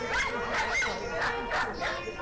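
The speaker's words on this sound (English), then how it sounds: "You'll notice the dogs are singing along right. with the trumpet." Several dogs yipping and howling along with a cornet, rising whines and barks repeating in bursts over roughly two seconds, loud and close.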